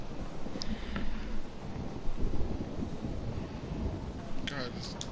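A thunderstorm in the game Life Is Strange rumbles with heavy thunder and wind-driven rain, rolling surges of low noise with gusts buffeting throughout.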